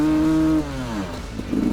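An enduro motorcycle climbs a steep hill under careful clutch control, its engine droning steadily then dropping in pitch and roughening as the load changes, ending in a burst of gritty noise.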